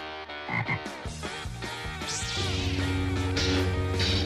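A frog croaking in a video game, with repeated loud, close croaks layered over a busy, tonal game soundtrack that holds steady underneath.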